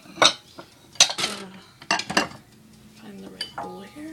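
Bowls and dishes handled in a home kitchen while setting out Japanese somen noodles: a series of close ceramic clinks and clatters, scrapes and knocks in irregular bursts, with quiet gaps between.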